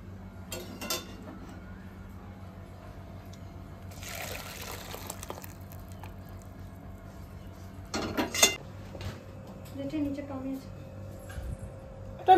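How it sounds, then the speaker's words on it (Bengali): A spoon stirs lentil dal in a cooking pot on a home kitchen stove, giving a few short scrapes and splashes among quieter bubbling, while people talk nearby. "এই যে এখন আমি নেড়ে দিচ্ছি।"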